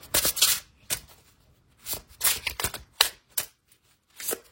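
A deck of tarot cards is shuffled by hand in a series of crisp riffling and flicking bursts, close and clear, separated by brief quiet pauses.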